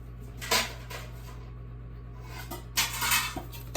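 A metal lid set onto a pan simmering on a low stovetop heat, two short clanking contacts about two seconds apart over a steady low kitchen hum.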